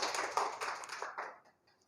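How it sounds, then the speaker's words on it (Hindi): A small classroom group claps for a prize-winning student, quick patters of hands that thin out and fade within two seconds. "इनके लिए ताली बजाइए"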